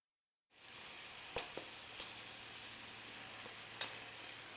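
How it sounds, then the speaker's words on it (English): Fresh cranberries boiling in a pot give off a steady bubbling sizzle, with a few sharp close pops scattered through it. "Now you can hear it popping like popcorn"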